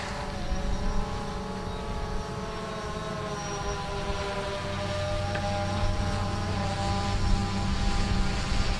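A Fluidity FT Aviator drone climbs to altitude with a steady, close buzzing whine from its rotors and faint harmonic tones riding over it, and no voices.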